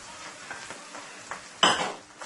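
Pasta tossed into a pan of roasted vegetables, soft stirring scrapes and light sizzling with a sharper clatter of food and utensil on the pan near the end.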